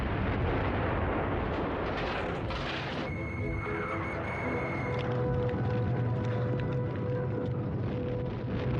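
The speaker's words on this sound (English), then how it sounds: "A great barrage of Katyusha rockets and artillery announces counter-offensives by 4 more Soviet armies" Soviet Katyusha rocket barrage and artillery fire in a heavy continuous roar of dense overlapping booms and rumbling, with a whining streak of launches cutting through partway, all loud and distant-wide without pause.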